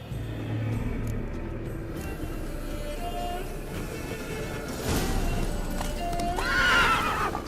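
Galloping hoofbeats of Roach, Geralt's horse in The Witcher 3, drum steadily under game music, with a loud whinny rising near the end.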